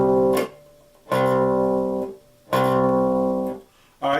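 A bass guitar sounds a C note on the third fret of the A string, played three times as sustained, separate plucks with short gaps between them and a fourth pluck starting at the end.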